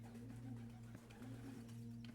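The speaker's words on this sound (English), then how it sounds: "Doves." Doves coo softly in a low, steady murmur in the video game Blue Prince, faint and continuous under a quiet humming background.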